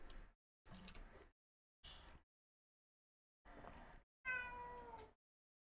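A house cat meows several times in short, separated calls, the last one louder and more drawn out, heard fairly faintly indoors with no talk.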